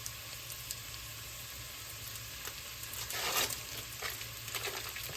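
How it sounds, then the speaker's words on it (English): Cream cheese melts and is stirred in a hot pot of chicken noodle soup, a soft continuous sizzle and scraping stir with a brief louder clatter of spoon against the pot, no voices. "we'll go in with the cream cheese next, just to get it to melt down some with the heat"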